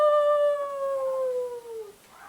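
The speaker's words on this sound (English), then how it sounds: "The ghostly breathing, moaning sound was coming from outside" Drawn-out ghostly moan, a single falling wail that glides smoothly downward and fades after about two seconds, heard alone and close.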